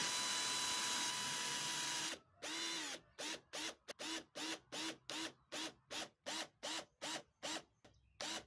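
A power drill drives screws into a wooden corner clamp jig, a long steady whir followed by about a dozen short, evenly spaced bursts as each screw is driven home, close and loud with no voices.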